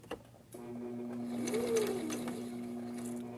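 A sewing machine stitches elastic on a fabric grocery bag holder, running forward and then in reverse, a close, steady mechanical whir that swells slightly as the stitching speeds up.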